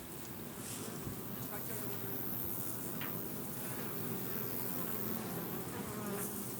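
Dense, steady hum of honey bees swarming over the brood nest of a young colony, a continuous close buzz with individual bees passing near the ear.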